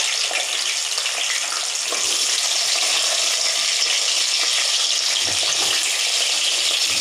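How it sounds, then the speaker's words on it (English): Ajwain seeds crackle and sizzle in hot oil, a loud, steady, dense frying hiss that runs unbroken from start to finish with no talking. "this is hot enough now. It's oil and अजवाइन in the oil."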